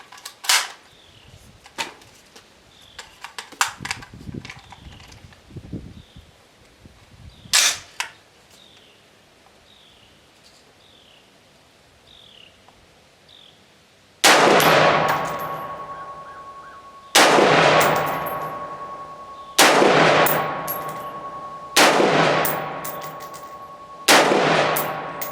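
An Anderson AM-15 rifle fires PPU 55 grain ammunition in five loud, evenly spaced shots, each with a sharp crack and a ringing decay, after quieter scattered clanks and distant pops.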